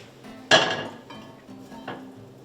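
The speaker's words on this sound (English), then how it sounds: "now we're just going to go ahead and toss them in the same pan with the drippings" Asparagus spears, dressed with olive oil, salt and pepper, drop into a pan of meat drippings with a sharp clattering clink, followed by a softer second clank and quiet sizzling.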